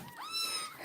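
A kitten in a household with many cats gives a single rising, thin meow, close by and fairly faint.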